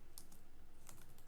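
Soft, sparse clicks of keys being pressed on a computer keyboard, a few faint taps spaced unevenly across a very quiet second or so, with no talking.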